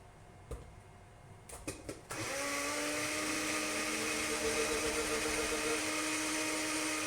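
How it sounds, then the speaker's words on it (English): A kitchen blender whirs into a steady, loud high-pitched drone blending an olive oil sauce, kicking on after a few faint clicks and running continuously to the end. "then we'll run this through the blender real quick"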